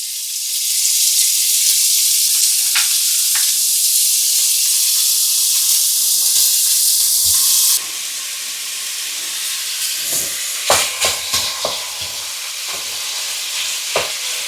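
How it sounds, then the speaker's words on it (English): Lamb mince, 20% plus fat, sizzling as it browns in olive oil in a pan: a loud, steady hiss, then softer frying with clinks and stirring scrapes close by. "Right, let's add the lamb mince"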